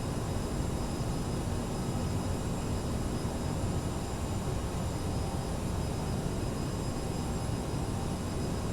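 Aerosoft CRJ900 jet in MSFS2020 on landing approach with gear down and full flaps, a steady broadband engine and airflow roar, constant and close, with no voices.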